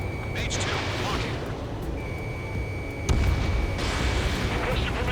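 Anti-aircraft guns firing in Ace Combat 7, rapid booming bursts and pops layered with a steady electronic tone and dense battle noise, loud and continuous, with radio voices shouting over the fire.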